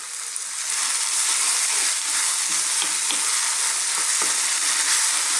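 Chopped plum tomatoes go into a moussaka pan that fries hard, a loud steady sizzle with a few stirring scrapes and no talk.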